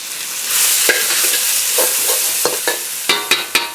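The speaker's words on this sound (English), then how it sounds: "I'm basically gonna stir fry this until it's fragrant." Kimchi stir-fries in hot oil in a pan with a loud, steady sizzle, broken by sharp scraping clacks of a utensil stirring, several strikes clustering near the end.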